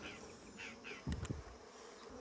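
Honeybees being rescued from a tree trunk buzz in a continuous close hum, broken by a brief burst of louder rustling and knocking as a cluster of bees is handled.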